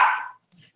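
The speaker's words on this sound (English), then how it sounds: "They're my dogs. They heard it go off too." Pet dogs give a short bark or yip, near and fairly loud, followed by a faint whimpering sound.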